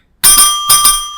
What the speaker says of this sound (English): The bell.